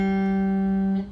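The open G string of a guitar sounds clearly and sustains for about a second before cutting off.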